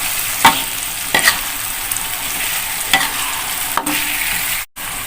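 Ground chili paste and garlic frying in a pan, a dense steady sizzle with a few spoon scrapes and stirring knocks, close and loud, no voices.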